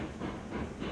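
Train rolling along rails in the RailRoads Online game, heading toward a sawmill with loaded cars: a steady rumbling clatter with hiss, continuous and fairly close, no voices.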